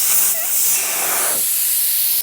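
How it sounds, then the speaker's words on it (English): Air rushes out of a tractor tire through its opened valve stem in a loud, continuous close-up hiss, with a brief swell in the middle before it steadies again. "pull our valve stem out and let all the air out of the tire"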